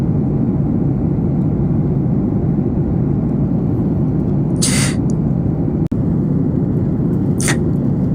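Airplane landing in the Dominican Republic, heard from inside the cabin as a loud, steady engine roar throughout, with a few brief higher bursts over the drone.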